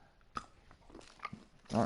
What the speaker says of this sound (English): if you don't know, dogs like pistachios. Well, I know my dogs do. They eat the shell.